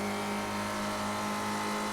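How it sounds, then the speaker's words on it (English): Ford Spec race car engine in iRacing closing in from behind, a steady droning roar with strong tonal harmonics, loud and continuous throughout. "You can hear his engine coming up behind me."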